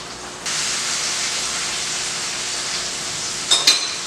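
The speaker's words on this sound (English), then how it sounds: "So now I'm going to throw this pepper in here." Pepper thrown into a hot pan while corned beef, cabbage and rice are cooked: a sudden loud steady hiss of sizzling, with a couple of brief clatters near the end.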